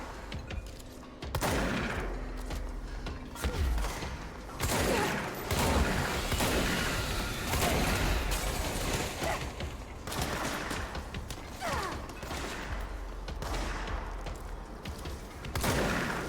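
Gunfire in the video game Control, repeated bursts of shots and impacts spread across a long stretch of combat, loud with brief lulls between volleys.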